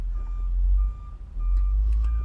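A truck reverses with its backup alarm sounding a steady, repeating tonal beep over a heavy, close low engine rumble, with a brief dip in the rumble midway.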